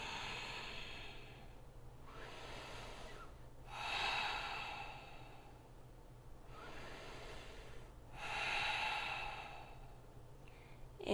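Audible yoga breathing during Ashtanga practice: slow, deep breaths through the nose with a soft hiss, three long breaths spaced a few seconds apart over steady faint room noise.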